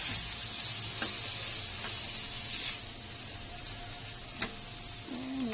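Beef goes into a pot for beef curry and is stirred, giving a steady, fairly loud sizzling hiss broken by a few sharp utensil clinks against the pot.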